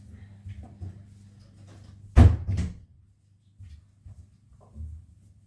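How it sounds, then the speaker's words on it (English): An indoor door swings shut with one solid thud and a short rattle, loud against a quiet room with a low steady hum behind, followed by a few faint soft knocks. "I'm going to close the door"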